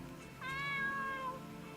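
A cat in the Heroines of Swords & Spells RPG gives a single clear, rising-then-falling meow of about a second, close and moderately loud, over a low steady background.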